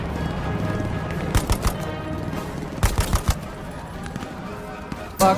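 Machine gun suppressive fire in the Hell Let Loose video game, heard as short clustered bursts of sharp shots at irregular intervals over steady background battle noise.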